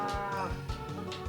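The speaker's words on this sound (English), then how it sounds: "There's a couple more cows down here for me to milk." Cows moo in the farm scene of the Harvest Moon video game, a few synthetic, tonal lowing calls repeating over a steady musical background loop.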